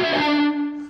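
Distorted electric guitar harmonics on the low E string, one sustained shimmering tone with a strong steady pitch and bright overtones that slowly fade, heard alone and close.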